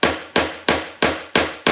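A small 4-ounce hammer strikes five times at a steady, quick pace, each blow sharp, close and loud, with a short ringing decay and no talking.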